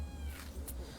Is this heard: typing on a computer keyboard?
no